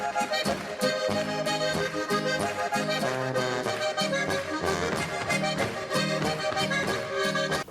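Traditional Bavarian band music by a folk group from southern Germany plays loud and full with a steady, bouncing beat and layered melodic instruments throughout, with no talking.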